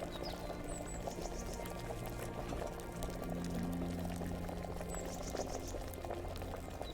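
Liquid bubbles and simmers steadily while a potion brews in Kingdom Come: Deliverance, a soft continuous boil with faint drips and no voices.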